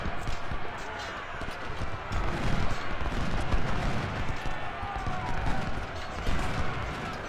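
Musket volleys and artillery fire in the Ultimate General: Civil War game crackle and thump continuously, a dense irregular barrage of shots at moderate loudness with some swells.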